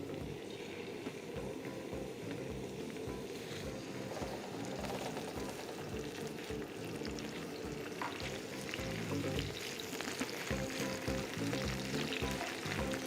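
Onions fry on a tawa with a continuous, even sizzle and soft crackle, steady and close throughout with no talking.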